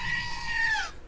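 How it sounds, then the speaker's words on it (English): A screaming goat alert sound: one loud, sustained, wavering nasal scream lasting about a second, cutting off abruptly at the end. "That screaming goat is loud and proud today."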